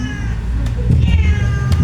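A cat meows repeatedly in short, rising calls, close and clear, with a low background hum beneath.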